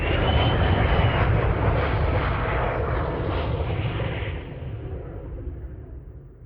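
A jet airplane landing nearby, its loud, broad engine roar sustained at first and then slowly fading as it passes on.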